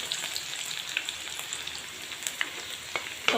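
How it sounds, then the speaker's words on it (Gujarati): Red chili powder tipped into hot oil for a bhajiya kadhi tempering sizzles and crackles steadily, with small sharp pops scattered through and a louder burst at the end; no voices. "લાલ મરચું નાખું છું."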